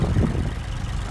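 A 60-year-old tractor engine idles in a vineyard, a brief low steady rumble with a soft throbbing beat, heard close and alone.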